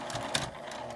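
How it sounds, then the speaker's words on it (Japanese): A brief stretch of a sewing machine's rapid, steady stitching along the turned-in seam allowance edge of a fabric toilet paper case, close and continuous. "縫い代は内側に倒して端ミシンをかけます"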